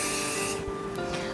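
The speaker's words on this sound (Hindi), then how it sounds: "फिर स्प्रे मार दिया मैंने पूरी हेयर स्टाइल करके।" A hairspray can sprays a finished bridal hairstyle in a parlour, one steady close hiss that cuts off after about half a second, then fainter rustling and faint background noise.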